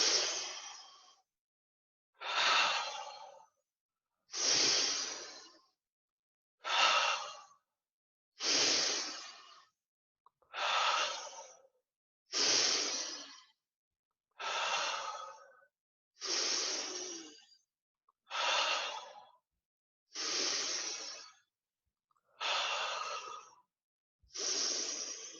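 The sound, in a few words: deep rhythmic breathing in and out, Wim Hof method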